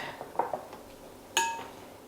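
Mushrooms are tossed in a gochujang marinade in a bowl, giving a few faint scrapes and light clinks and then one sharper ringing clink against the bowl. The setting is a quiet kitchen.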